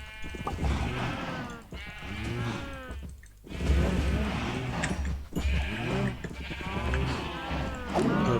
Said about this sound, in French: Là il y a pas mal de vaches.